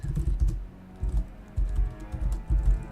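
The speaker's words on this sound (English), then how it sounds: "I was typing" Fast typing on a computer keyboard during a PvP gaming Q&A session, with clustered bursts of key clatter separated by brief pauses, close and fairly loud, with no talking.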